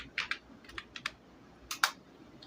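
A file name is typed on a computer keyboard: a handful of separate, crisp key clicks with uneven gaps, faint and close, with no talking.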